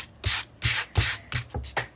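Quick back-and-forth strokes of a nail emery board sand a handmade journal, five short rasping scrapes in a loose rhythm, close and crisp.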